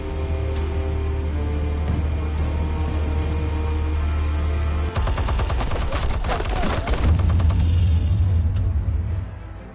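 Loud rapid burst of gunfire and blasts in a Batman video game, a dense crackling volley cutting in over a steady low engine-like drone, lasting a couple of seconds before the rumble resumes.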